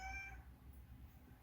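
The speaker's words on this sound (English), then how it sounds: "That was a new meow" A single short cat meow sounds close at the start and then fades into quiet room tone.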